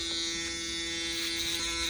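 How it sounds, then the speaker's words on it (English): An electric shaver buzzes steadily and close at hand while cutting a low drop fade haircut, a constant tonal hum with slight variations as it passes over the head, and no voices. "come in with our shaver"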